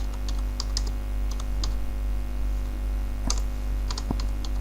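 Sparse, light keystrokes on a computer keyboard while HTML text is typed into a code editor, with irregular clicks over a steady low electrical hum.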